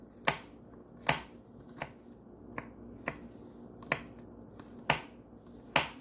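A knife thinly slices green onion whites on a cutting board, giving about eight sharp, evenly spaced chops that sound close and crisp against a quiet kitchen background.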